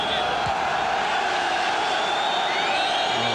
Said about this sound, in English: Wave going around the ground